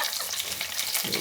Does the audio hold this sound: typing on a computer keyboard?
no